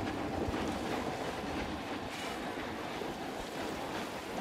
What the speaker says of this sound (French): ça fait quelques petites vagues par ici, mais ça reste sympa